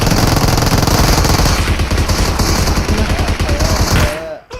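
Video game gunfire rattles in loud, rapid automatic bursts nearly nonstop before cutting off abruptly near the end, close and dominant.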